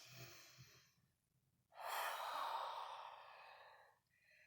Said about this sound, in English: big inhales and big exhales, big inhales, big exhale